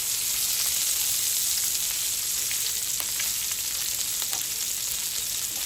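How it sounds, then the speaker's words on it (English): Bacon and sausages fry in a pan with a steady, dense sizzle and crackle, loud and close, occasional small pops, no voices. "Just keep moving your bacon around."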